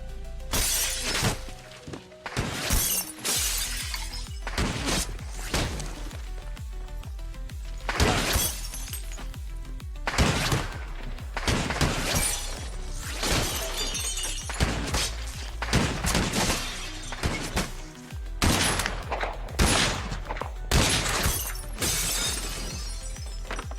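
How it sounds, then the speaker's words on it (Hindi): A glass window shatters in a rifle shot through it, a burst of breaking glass repeated many times as loud crashes with short gaps over steady low rumble. "अगले ही लम्हे शीशा टूटता है।"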